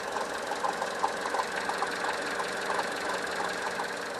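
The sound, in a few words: juddering noise from Vauxhall Corsa water pump, engine idling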